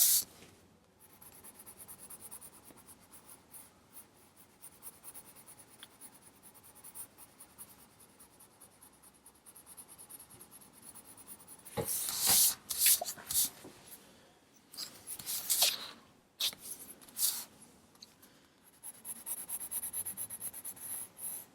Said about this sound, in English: Underneath that blanket here, I'm using the black pencil